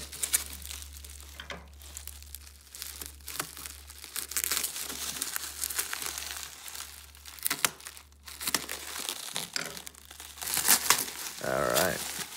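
Crinkly plastic and paper wrapping being peeled and crumpled by hand while opening a mailed package of Yu-Gi-Oh trading cards, including a 2002 Red Eyes tin, in steady close rustling bursts with a low hum beneath.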